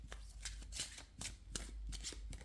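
Someone handles a tarot deck up close, producing quick papery riffles and flicks as the cards are shuffled and sorted in short bursts.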